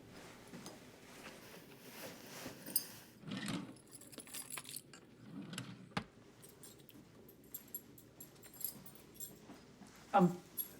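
A bunch of keys jangles and clinks in short bursts, fairly close, with rustling and drawer handling around it and a louder metallic rattle near the end.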